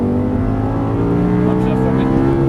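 An Audi R8 engine pulls hard on a track, a loud, close, steady engine tone climbing in pitch under throttle, with an instructor's voice talking over it.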